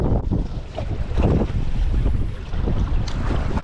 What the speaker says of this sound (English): super windy